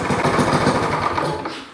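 A Briggs & Stratton LO206 go-kart engine revs steadily at high RPM, a loud, buzzing, continuous drone close by that starts to fade near the end as it winds down.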